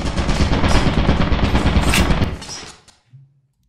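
Sustained automatic gunfire in the video game Lethal Company, a loud, dense burst of rapid shots lasting over two seconds before cutting off, followed by a brief low clunk.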